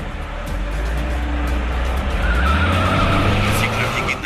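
A car accelerates hard with its tires skidding, a loud continuous engine roar and a rising squeal that holds steady to the end.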